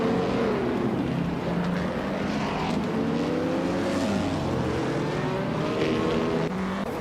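A 1960 Scarab Indy race car in a racing game drones steadily at high revs, its engine pitch sliding up and down through gear changes, loud and continuous with no talk.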